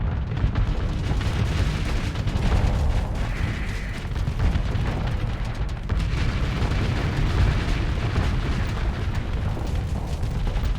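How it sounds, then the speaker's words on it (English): Rapid chain gun fire during space combat in the game Starsector, a dense continuous barrage of bursts and booms at steady high loudness, with no voices over it. "No, its chain guns are shredding."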